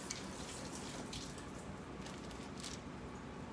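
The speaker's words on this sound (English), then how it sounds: "Let's roll my sleeves up and wash my hands again" A kitchen tap runs while hands are washed for cooking a Tex Mex breakfast, a faint continuous splash with light squishy rubbing and a few brighter spatters, quiet and close.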